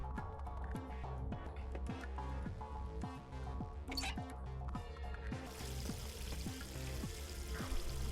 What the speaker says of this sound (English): There's water coming out of the faucet.